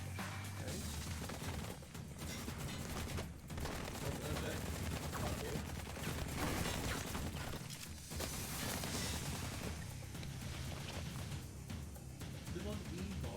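Rapid bursts of gunfire from the light-gun shooter game Blue Estate, dense and continuous with brief gaps, loud throughout as a voice talks over it.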